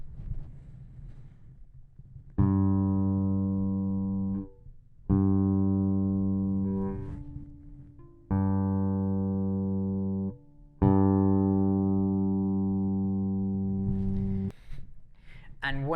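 A bass guitar's open G string rings out four times with the treble turned down, each long sustained note dull and rounded, decaying slowly before the next pluck, fairly close and alone.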